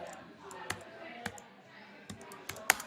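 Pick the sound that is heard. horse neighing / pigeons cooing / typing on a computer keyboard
typing on a computer keyboard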